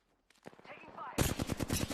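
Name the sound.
gunfire in a video game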